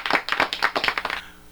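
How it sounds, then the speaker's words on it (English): Applause for local birthdays on an AM radio show: a short burst of brisk hand clapping, several quick claps in a loose rhythm, close and fairly loud, ending abruptly. "All the applause for them."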